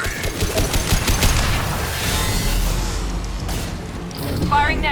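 Sustained bursts of gunfire from the Mass Effect 2 Legendary Edition video game, rapid shots and booms layered with explosions and crashes, loud and dense throughout, with game dialogue voices mixed in.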